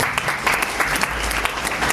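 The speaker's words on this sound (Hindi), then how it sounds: "लास्ट 5 मिनट ताली बजा लो।" Audience at a training session in Ambikapur breaks into sustained applause, dense and steady clapping from many hands filling the room with no voices over it.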